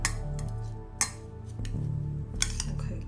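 Strips of dyed orange peel are stirred in a bowl with a utensil, giving close clinks and taps against the dish at irregular intervals over a soft scraping background.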